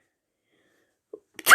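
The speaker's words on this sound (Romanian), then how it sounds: "Am strănutat." A person sneezes once, a short close burst that ends the otherwise silent stretch after a faint click.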